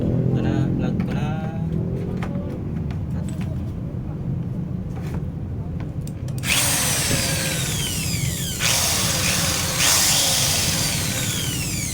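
A Black+Decker HD555K 550-watt electric drill runs, first a lower rattling spin, then a loud high-pitched whine with the hammer function engaged, continuing steadily with brief pitch changes.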